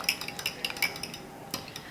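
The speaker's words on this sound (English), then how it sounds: "You can use a fork or a whisk just to whisk this together." Egg whites whisked with a fork in a bowl give light metallic clinks and taps in quick irregular strokes, close and fairly quiet, with a short pause before a few final clinks.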